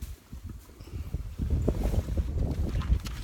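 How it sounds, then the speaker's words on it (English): Outdoor wind buffets the microphone in a steady low rumble that swells and gusts, with no voices over it. "Sorry about that wind, folks, it just picked up."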